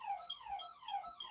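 A home fire alarm sounds in a repeating electronic sweep, a whooping tone that rises and falls in rapid cycles, steady and fairly loud, with no voices over it.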